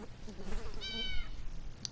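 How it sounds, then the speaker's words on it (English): A cat meowing in the video game 60 Seconds! Reatomized: a single clear, drawn-out meow over a faint low background hum. "Oh, there's the cat."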